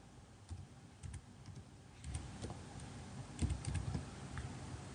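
Captcha code being typed on a computer keyboard: a close, quiet run of irregular key taps, sparse at first, then quicker clusters of clicks over a faint background hiss.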